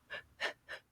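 Three quick, sharp gasping breaths are drawn in close succession, each short and breathy at a moderate level, made by a person demonstrating shallow breathing.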